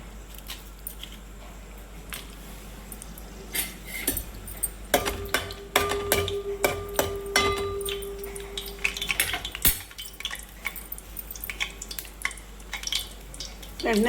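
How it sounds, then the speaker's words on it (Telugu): Dried red chillies drop into hot oil and crackle in a pan. A quiet background breaks into a cluster of close, irregular pops and clinks over several seconds, then settles to scattered crackling. "ఇంకోటి చక్కగా నూనె కాగిందండి. ముందు ఫస్ట్ ఎండుమిరపకాయలు వేస్తానండి."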